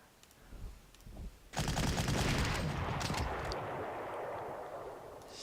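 Gunfire from an AI attack on artillery in the Panzer Corps war game: a sudden loud burst of rattling shots and explosions erupts after a quieter start, then fades into a lingering rumble.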